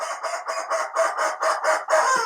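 A rubber chicken toy squawks in a run of about eight rhythmic honking pulses, loud and close, ending in a longer drawn-out squeal.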